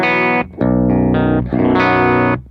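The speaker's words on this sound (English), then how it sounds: "this is that guitar, and it sounds really cool, but it's a little warm without the treble boost" A distorted electric guitar plays without treble boost, its tone warm and dark, through a pedalboard with chorus. Several sustained chords or notes ring out loudly one after another, separated by brief gaps.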